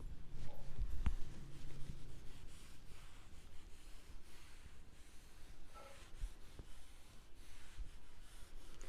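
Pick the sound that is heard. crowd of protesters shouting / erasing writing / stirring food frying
erasing writing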